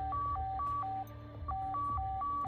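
A satellite phone in a video game gives an electronic ring of alternating two-tone beeps in a steady repeating pattern, fairly quiet over a low background hum.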